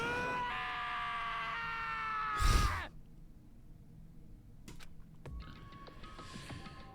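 A character named Taka from the video game Danganronpa lets out a loud, strained scream that swells and then cuts off, followed by quieter game sounds and faint clicks.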